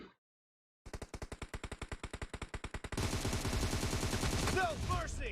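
Automatic gunfire in the mobile battle royale game BGMI: a steady run of sharp, evenly spaced shots, then a denser, louder stretch of overlapping rapid fire with ricochet-like whines near the end.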